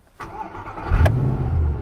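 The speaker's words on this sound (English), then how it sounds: "So if the starter button is no longer functioning, you can start the car here." Mercedes-Benz SLS AMG started by its backup key slot instead of the starter button: a brief starter whir, then the engine catches with a loud, deep rumble that settles into a steady idle close by.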